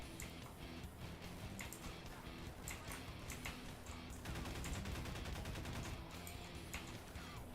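Gunfire from a pistol and rifles in a gory animated shootout: rapid volleys of sharp cracks and bursts, some in quick machine-like runs, over a dense, steady wash of background noise, heard faintly throughout with no clear talking.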